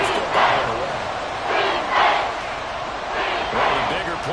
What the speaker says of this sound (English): The crowd getting into it as we come up on a big third down.